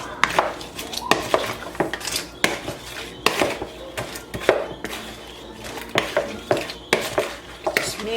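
Jalapeno stuffing for a Thanksgiving meal mixed in a dish, a spoon scraping and clinking against the bowl in steady repeated strokes, close and busy throughout.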